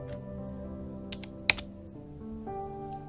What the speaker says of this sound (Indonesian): Kita ketikkan instruksi.